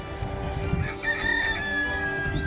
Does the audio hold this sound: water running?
no